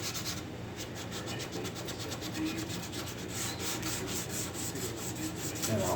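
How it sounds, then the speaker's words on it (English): Hand sanding of a guide-coated body panel on a GT185 project, a steady rhythmic rasp of strokes back and forth, close and fairly even for several seconds without speech. "So I'm going to sand this a little."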